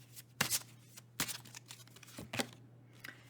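Tarot cards being shuffled by hand in several short, close riffling bursts separated by brief pauses, crisp papery flutters in a quiet room.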